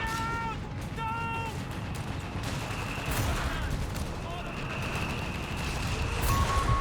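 Long-range gunfire and bursts in the real-time strategy game Company of Heroes 3, a dense steady battle din of rattling shots and distant booms running the whole time under a constant layer of talk.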